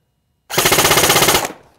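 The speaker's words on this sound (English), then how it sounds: "let's see what kind of rate of fire we get" A Bushmaster Carbon 15 AEG airsoft rifle runs on an 8.4 volt battery and fires one loud, close full-auto burst of about a second, a rapid even stream of shots that stops abruptly and leaves a brief mechanical tail.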